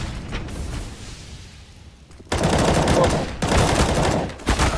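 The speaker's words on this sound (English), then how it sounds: "Shots ring out." Rapid bursts of CS:GO gunfire crack out in a tense late-round firefight, dense and loud, with shots layered over a steady game background and swelling into heavier volleys partway through.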